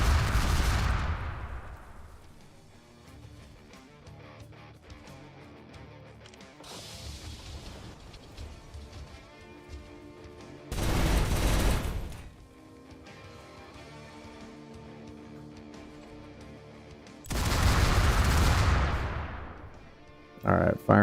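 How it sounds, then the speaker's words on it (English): Mech weapons in the video game Kriegsfront Tactics firing at a sniper, three heavy booming bursts of gunfire spaced several seconds apart, with quieter game sounds between them. "firing at the sniper"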